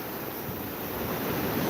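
Ocean surf rolls in at a beach as a continuous broad wash of waves, steady and fairly loud with wind noise on the microphone and no talking.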